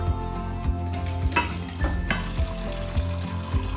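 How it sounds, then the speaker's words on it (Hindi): Food is tempered in hot oil while cooking veg chowmein, giving a loud, continuous sizzle up close, with regular clicks of a spoon stirring against the pan. "अभी हम इसको छौंक लेते हैं।"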